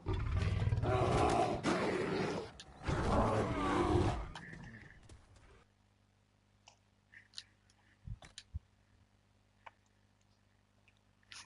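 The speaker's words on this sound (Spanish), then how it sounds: "3 osos y un perro, o sea, y un Mavari me persiguieron" Bears roar in Dragon Age: Inquisition, with loud, growling bursts packed into the first four seconds. Quieter game noises follow: faint clicks, thuds and a low steady hum.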